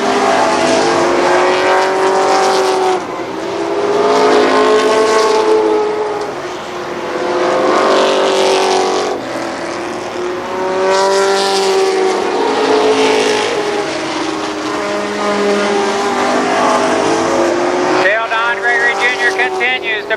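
Midget race cars roar around Columbus Motor Speedway in a 1995 NAMARS event, engines rising and falling in repeated passes beneath a race announcer's steady commentary.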